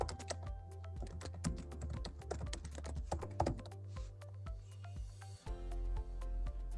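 Rapid typing on a computer keyboard, a dense run of close, crisp key clicks with a few heavier thunks, continuous and fairly quiet, without talking.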